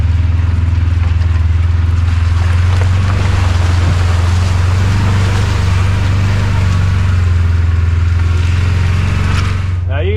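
A four-wheel-drive truck pushes through flowing water deep enough to near the metal, its engine a steady loud low drone mixed with continuous rushing and splashing water, close and unbroken throughout.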